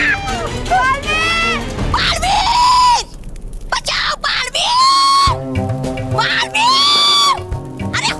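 Several people scream loudly and shrilly in repeated rising and falling bursts, with a pause of noise around the middle, close and chaotic with crowd babble underneath.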